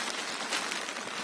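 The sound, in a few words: rain falling on a hilltop viewpoint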